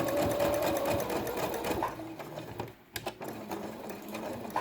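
A sewing machine stitches a single layer of felt with a straight stitch, a close continuous whirring drone that slows briefly, with a short clack, then resumes, no speech.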